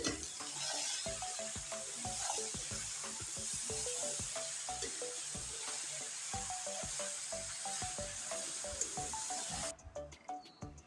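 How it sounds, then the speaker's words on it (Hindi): Okra and mixed chopped vegetables for a masala bhindi are gently stirred in a hot pan, giving a steady close sizzle with light repeated scrapes and clinks, which thins out near the end. "अब इन तमाम सब्ज़ियों को हल्के हाथों से मिक्स कर लें।"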